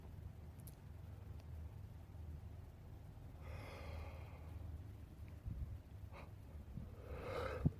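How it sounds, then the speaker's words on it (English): A drawn-out yawn, a breathy rising and falling exhale lasting about a second, close and quiet over a faint background hum, with a few soft breaths and small noises around it. "I'm still yawning"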